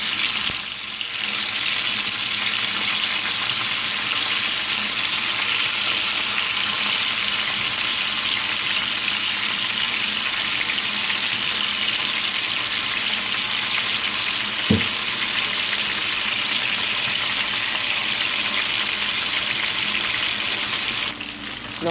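Oxtail browning in a hot pot for Jamaican oxtail, with liquid added: a continuous loud, hissing sizzle that holds steady throughout, broken by a single sharp knock near the end.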